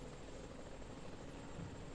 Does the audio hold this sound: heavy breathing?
no